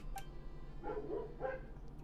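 Dogs in Genshin Impact bark a few times across a short stretch, sharp yaps at moderate distance over a steady low game hum, with no talk.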